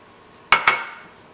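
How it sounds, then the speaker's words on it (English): Rolled oats and cinnamon tipped into a mixing bowl for a peach crumble, heard as two quick, sharp clinks of a container knocking against the bowl, close and clear, followed by quiet. "I'm going to take another bowl and I'm going to dump in my rolled oats, the rest of the cinnamon"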